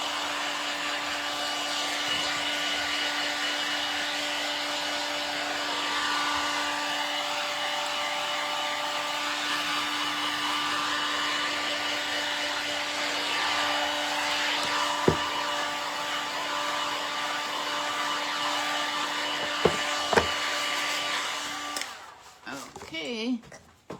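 A hair dryer blows steadily on sprayed frame decor, producing a continuous loud whooshing whine that runs for over twenty seconds with a few small knocks, then cuts off and is handled near the end.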